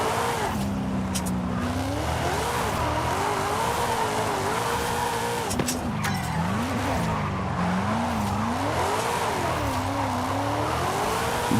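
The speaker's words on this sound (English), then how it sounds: "Drift zone is not active, but we're drifting anyway." A Forza Horizon 5 Performance Class A car drifts continuously, tires squealing and skidding in long wavering sweeps over a steady engine drone, loud and close with no one talking.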